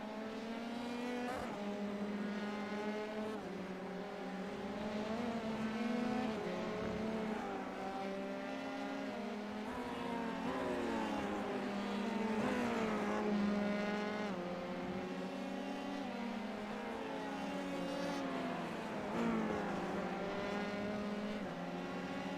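Race cars lap a circuit in a League Zero event, several engines overlapping in a steady, loud drone with rising and falling pitch as cars accelerate, shift and sweep past, with no voices present.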